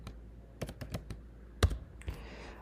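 Keys tapped on a computer keyboard while entering a PAN card number into an online application form, a quick run of close clicks with a short pause and a final burst.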